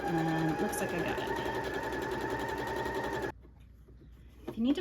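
Sewing machine stitching a seam on fabric for a Halloween wreath pillow, a steady close mechanical whir with faint rhythmic ticking that runs for about three seconds, then stops abruptly into near-quiet handling noise.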